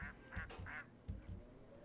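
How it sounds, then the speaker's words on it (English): A pet goose honks in a quick series of short nasal calls, moderately close, with low thumps and background noise beneath them. "Grandma's just got a pet goose."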